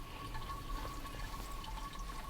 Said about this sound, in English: You can hear the trickling of the water.